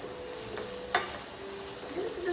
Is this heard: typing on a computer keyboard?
no